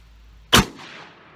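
A single sharp shotgun blast of buckshot slams into a car door, one loud close crack followed by a short fading metallic ring and echo.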